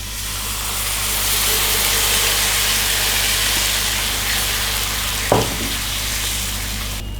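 Flour and liquid milk go into a hot pan and are stirred, giving a loud continuous sizzle with a brief scrape partway through.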